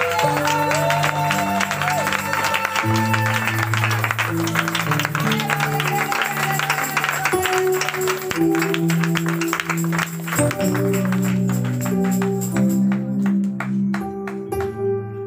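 A church congregation at a French-language worship service claps and cheers in a sustained wash of applause, mixed with held keyboard or organ chords that continue underneath.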